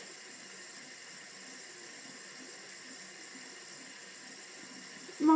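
Tap water runs steadily into a bathroom sink as a face is rinsed, a soft, even hiss at low level that swells into a louder splash right at the end.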